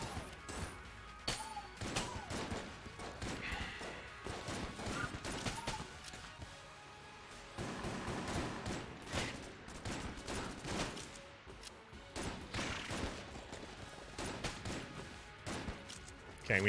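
Rapid bursts of gunfire from the video game Enter the Gungeon, dense crackling volleys and impacts repeating throughout with short lulls, while a voice talks over the action.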